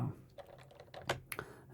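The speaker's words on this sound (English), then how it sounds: "this is definitely the loudest of the keyboards. It has the most key travel" Typing on an old-school mashy keyboard with long key travel: a handful of close, irregular clacks and thuds, a couple sharper and louder than the rest, with a faint voice briefly underneath.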